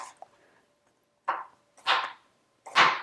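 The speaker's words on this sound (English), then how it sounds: "let's just finish slicing up this last little wedge" A knife cuts through pear wedges on a board, giving three or four separate crisp slicing strokes, close and fairly loud, with quiet gaps between them and no talk.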